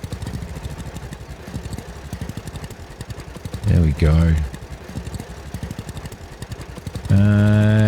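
A tractor engine in the farming game Farmer's Dynasty 2 chugs with a rapid, steady mechanical pulse, up close and fairly loud, as someone talks briefly over it, and the engine note swells near the end.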